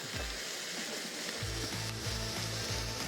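LA Galbi beef short ribs sizzle steadily on a Korean barbecue grill, a close, continuous hiss with faint rhythmic low thumps underneath and no talking.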